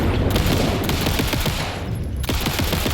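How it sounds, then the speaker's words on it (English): Rapid automatic pistol fire in the video game Alan Wake II, a dense, loud burst of continuous shots with a brief break near the end before firing resumes, no talk. "Oh, okay, we've got the automatic pistol."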